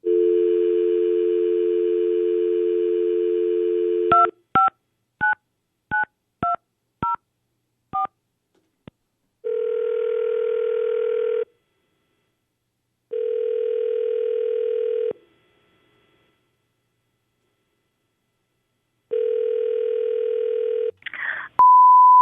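A phone line gives a dial tone, then a quick run of dialled touch-tone digits, followed by evenly spaced ringback tones with silent gaps as the call to a law firm rings through, ending in a short clatter as the line picks up.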